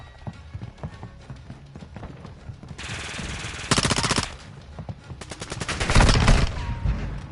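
Gunfire in a shooting video game: bursts of rapid automatic fire in two loud stretches, one short and one longer, over a busy bed of game noise and clicks.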